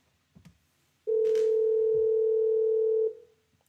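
On a Fanvil X6 IP phone, a steady, clear dial tone holds for about two seconds after a couple of soft handling clicks, then cuts off.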